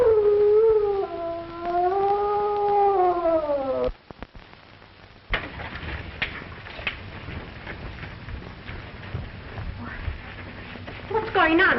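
A police dog lets out a long, rising and falling howl close by for several seconds, then voices take over with talk through the rest.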